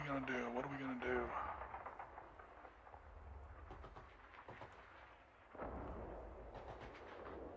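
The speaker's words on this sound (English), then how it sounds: "That's this turn's artillery." Artillery fire in the wargame Panzer Leader, booming blasts and crackling impacts rolling in short bursts, with a louder swell toward the end, while a voice talks over the opening second.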